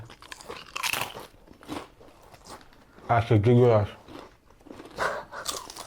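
Someone crunches and chews Bret's cheddar and beer flavoured crisps, with crisp biting crackles and rustling scattered among spoken words and a sustained voiced sound midway.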